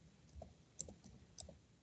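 Faint, scattered keyboard keystrokes tap out during an online class, a few soft clicks and a couple of sharper ones spread unevenly over a quiet room hum.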